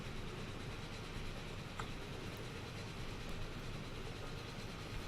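Trains rumble steadily into a pit stop during a race in the railway simulation game Transport Fever, a constant, dense mechanical roar with faint clicks, unbroken and without voices.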